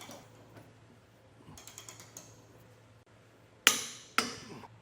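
Serrated flange nuts on a Curt trailer hitch receiver for a 2024 Ram 1500 Classic are tightened with a ratchet, producing a run of light clicking strokes followed by two sharp, loud metallic clanks.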